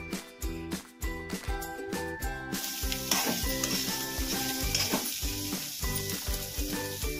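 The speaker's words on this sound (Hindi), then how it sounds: "अब इसमें गोभी डाल देते हैं हम फूलगोभी और अच्छे से इसे हम मिक्स कर लेंगे।" Cauliflower frying on low heat in a pan as a dry sabzi is stirred, giving a steady close sizzle with repeated rhythmic scraping strokes throughout, and no talking.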